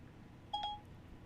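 A phone's voice assistant gives a brief two-tone electronic activation beep, clean and close, lasting about a quarter second against a faint room hiss.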